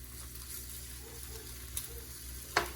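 Chicken pieces dumped into a hot pot for a sweet and spicy stir-fry give a steady, soft sizzle throughout, with a couple of sharp clinks of a utensil against the pot near the end.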